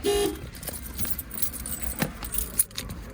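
Keys jangling close by in a few short metallic rattles, with a car nearby and a faint toot of a horn in the background.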